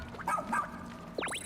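Ochi, the dog companion in the video game Pikmin 4, gives a couple of short yapping barks followed by a quick rising-falling whine or yip, moderately loud against a soft game music bed.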